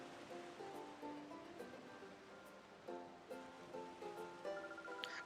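Sea waves in Pokémon XD: Gale of Darkness wash in a soft, continuous hiss, faint and steady beneath light musical tones.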